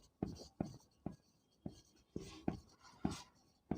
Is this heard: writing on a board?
yes